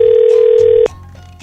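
A telephone rings out on an outgoing call: a single steady electronic ringback tone holds for almost a second, then cuts off sharply, leaving faint background noise.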